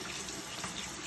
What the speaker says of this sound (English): I will rinse him off. So taking care to just get all of this out of his fur.